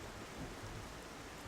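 Steady rain from a thunderstorm in Xenoblade Chronicles hisses as a dense, even wash, with a low rumble of thunder rolling faintly underneath, no voices present.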